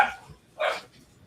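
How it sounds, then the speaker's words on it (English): Two short dog barks a moment apart, moderately close and fairly loud, with nothing else happening around them. "So the dogs have become active."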